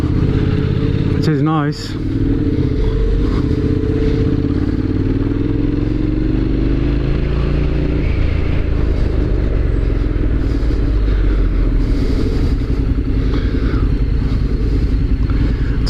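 A KTM motorcycle riding ahead of a Honda NC750X on a group ride, a steady close engine rumble and wind rush with shifting pitch and a brief rising whine early on, with someone talking over it.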